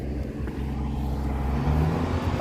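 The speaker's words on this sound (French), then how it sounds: "Ils ont démarré la grue là-bas." A blue crane's diesel engine runs in a small Breton harbour village. It gives a loud, steady low rumble with a deep throb that holds the whole time, fairly close, with no talk.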